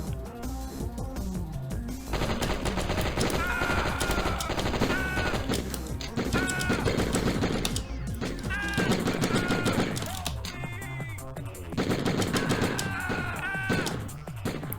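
Gunfire in the video game Die Hard Trilogy, rapid shots crackling over loud, dense game music and effects, sustained throughout with brief swells and dips.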